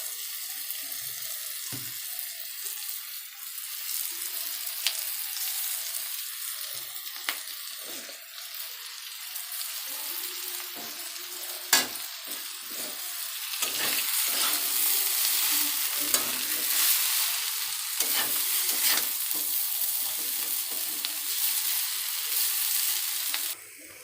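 Chowmein noodles tossed with vegetables sizzle in a hot pan, with a steady frying hiss and repeated scrapes and clinks of a stirring utensil. The sizzle grows louder in the second half.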